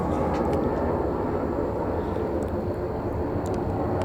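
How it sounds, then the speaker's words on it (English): A jumbo airliner rolling down the runway for takeoff at Atlanta airport: a continuous, heavy engine roar that stays loud and steady throughout, broad and rumbling, heard from a distance with no voices over it. "let's get underway here with this takeoff roll"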